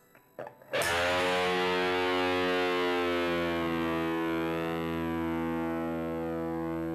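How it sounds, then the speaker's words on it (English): A single open low E note on electric guitar rings out with heavy distortion, its pitch slowly sagging and bending downward as the string is pushed behind the nut, sustaining for several seconds. "while striking the low E string open, we're going to push on the E behind the nut."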